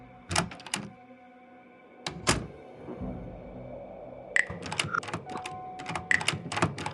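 A door opening in the point-and-click game Frequency Missing: a few sharp clicks and thumps with brief bursts, then a cluster of quick mechanical clacks near the end, close and moderately loud against a low background hum.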